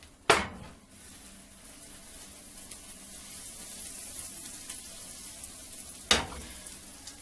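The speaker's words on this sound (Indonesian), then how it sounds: "2 bawang putih sama butter dilelehkan ya." Two garlic cloves sizzle in melting butter, a steady close-up frying hiss with a couple of sharp clatters at the start and near the end.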